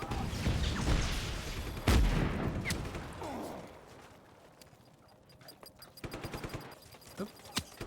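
Gunfire in the video game Just Cause 3: loud, sharp bursts of rapid shots and scattered single cracks, some heavy and close, easing off midway before returning as spaced, punchy reports.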